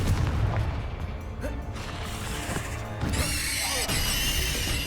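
A Confringo spell in Hogwarts Legacy goes off as a loud, close blast with a deep boom and crackling bursts, followed by a bright, sustained fiery sizzle that lingers to the end.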